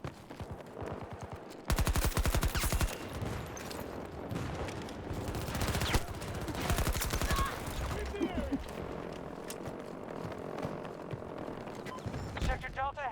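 Rapid automatic gunfire in the video game Battlefield 2042, dense bursts of loud machine-gun fire with scattered single shots and a faint helicopter hum, a voice talking briefly between bursts.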